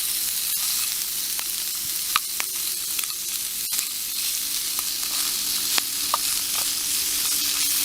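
Sausages fry over a wood fire on a stainless steel hexagon camp stove, giving a steady dense sizzle with scattered sharp pops and crackles throughout, close and continuous with no voices.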